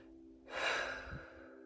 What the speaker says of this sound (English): just take a deep breath